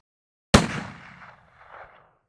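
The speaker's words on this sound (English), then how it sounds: "Finally, we'll take a third shot." A single rifle shot cracks out on a range during scope adjustment testing, loud and sharp against silence, then rolls away in a fading echo that lasts over a second.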